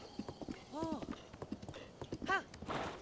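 A horse's hooves clip-clop rhythmically in the game Zelda: Breath of the Wild, mixed with short whinnying calls and someone speaking over the galloping.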